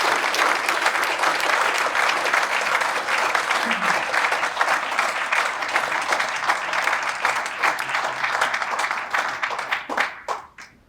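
Loud, sustained applause from an audience welcoming an inductee at the 2019 UND Aerospace Hall of Fame ceremony; dense clapping holds steady for about ten seconds, then thins out and fades near the end.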